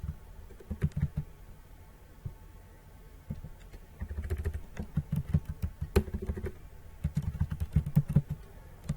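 Clattering keystrokes on a computer keyboard come in uneven bursts of quick taps with short pauses between them, close and fairly crisp, with no talking.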